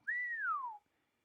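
A single clear whistled note, Star Trek's Captain Picard style, rising briefly then gliding smoothly downward for under a second, alone and close.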